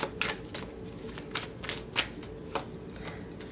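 Tarot cards being shuffled and drawn by hand close up, a run of crisp riffling snaps and slides repeating in an uneven rhythm.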